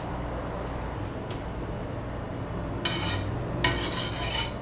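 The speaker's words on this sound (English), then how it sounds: "The next step is skim off the foam." A metal spoon scraping and skimming foam from the surface of a pot of hot homemade soy milk, two bright rasping strokes over a steady kitchen hiss, no one talking.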